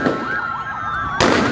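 Gunfire during a jail escape at Malir, Karachi, with loud rapid sharp reports over a wailing siren that sweeps up and down, ending in a sudden loud crack.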